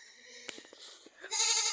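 Goats bleating on a small farm where leaf feed is stockpiled, a couple of short nasal calls followed by a louder, sustained bleat close by, with no talk.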